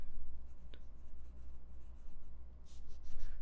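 Broad-nib Tibaldi N60 fountain pen scratching across paper, a soft continuous rubbing with small strokes and a brief sharper tick, close and quiet with no talking.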